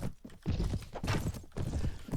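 A courser's hooves beat a steady, rapid galloping rhythm in Mount & Blade: Warband with the Prophesy of Pendor mod, with dense battle noise mixed in around them.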